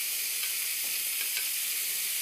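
Beef strips for stroganoff sear on high heat in a hot pan, giving a loud, steady, close sizzle and hiss that runs without a break and has no talk over it.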